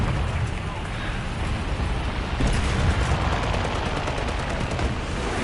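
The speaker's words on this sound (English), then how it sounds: "Oh my, rockets" Rockets and guns fire in the War Thunder combat game as a dense, continuous roar of rapid bursts, loud and close, with a voice talking over it.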